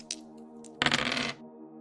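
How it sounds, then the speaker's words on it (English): Percentile dice rolled onto a hard surface, a couple of light clicks followed by a brighter rattling clatter as they tumble and settle, close and alone. "Rolling percentile dice twice."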